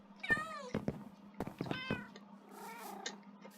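Cats in the Minecraft video game meow several times in quick succession, clear and close, with a softer, drawn-out meow trailing off at the end.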